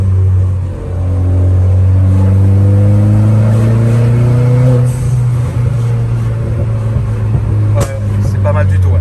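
A car engine revs hard and loud up close with a steady droning rise, the dump valve letting out a whoosh and small pops toward the end, while people talk over it.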